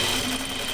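A sewing machine stitches a half-inch seam on a pajama top, giving a steady, close mechanical whir that holds level through the short burst.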